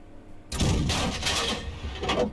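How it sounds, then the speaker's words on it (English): A tank gun round fired in World of Tanks, an SU-8 self-propelled gun aimed at a tree line: one sudden loud blast that rolls on into a long, rumbling, broadband boom with no speech over it. "He fired a round in at the tree going down."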